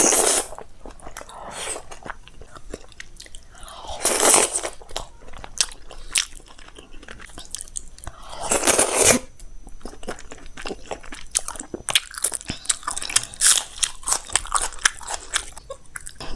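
Close crunchy bites and wet chewing of dal makhani, shahi paneer and jeera rice, with several distinct bite bursts amid quieter mouth sounds, no talking.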